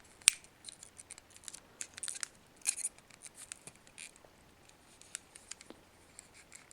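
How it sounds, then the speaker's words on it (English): Elasticated tape being pulled and cut off the packaging of a Vivid Toys Thunderbirds Are Go Thunderbird 1 craft toy, heard as quiet, close scattered snips, scratches and crinkles with no talking. "we will just take this bit of elasticated tape off"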